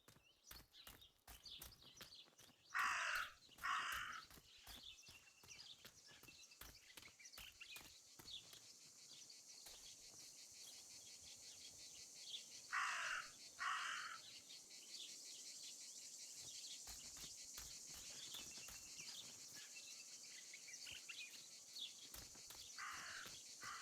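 A raven caws in repeated short bursts of two or three harsh calls, spaced several seconds apart, over a constant high insect-like drone and faint ticking from the game's ambience.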